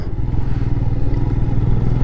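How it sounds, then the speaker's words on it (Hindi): Motorbike engine rumbling steadily as a biker approaches head-on on the high-altitude road toward Umling La in Ladakh, a continuous close-range drone with no voices. "सामने से कोई बाइकर आ रहा है भाई"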